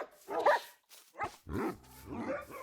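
A pack of tamed Minecraft dogs yips and barks in several short, close bursts with brief gaps between them, the game's dogs sounding clear and fairly loud.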